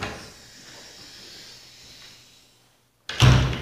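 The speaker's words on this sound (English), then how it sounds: "I usually lock this door because we don't want to wander in." A heavy door inside Government House, the Lieutenant Governor's residence in Newfoundland, sounds as a single close, loud thump or latch clunk near the end, after a few seconds of soft hiss and near silence.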